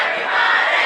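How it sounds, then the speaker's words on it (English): Riverdale fans cheering at a varsity high school football game against Gulf Coast, a dense, loud crowd roar that stays steady throughout. "these Riverdale fans are fired up"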